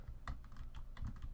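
Rapid keystrokes on a computer keyboard, an uneven run of clicky taps with a couple of denser bursts, close and fairly quiet, with no talking.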